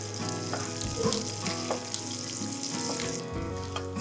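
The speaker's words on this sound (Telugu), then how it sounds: "మంచిగా గోలేంత వరకు వేయించుకొని" Green chillies, curry leaves and cashews frying in hot oil for a ragi pongal tempering, giving a steady, close, continuous sizzle and crackle with no talking.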